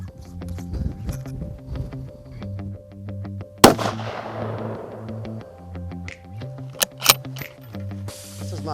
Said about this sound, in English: It's the first time I've been out to shoot it, and you know, 10 shots, I'm already pretty close to the bullseye.